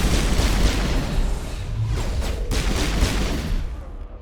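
Enemies blowing up in the Mass Effect 1 video game, a loud dense barrage of booming blasts and gunfire-like bursts, one explosion after another, then fading out near the end, with no talking.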